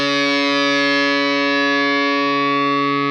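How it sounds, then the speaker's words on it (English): A single sustained note is played on the D string of a distorted electric guitar tuned just under standard. It rings loud and even for about three seconds and is then cut short. "My D string sounds like this."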